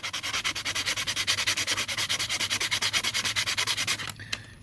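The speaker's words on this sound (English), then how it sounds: "you can sand some more places than others" Rhythmic sanding of a small scale-model wooden ladder, quick steady back-and-forth strokes close up, about two per second, stopping near the end with a faint click.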